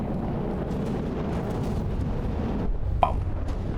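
Missiles striking battleships in From the Depths during a battleship tournament fight: a steady low rumble of distant explosions, then a single sharper impact near the end.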